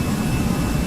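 Airliner jet engines spool up to takeoff power on the runway, a loud, steady roaring rumble heard from inside the cabin with no speech.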